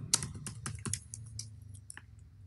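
Rapid, uneven keystrokes on a computer keyboard while typing code, a quick burst of close clicks and taps with brief pauses, no talking.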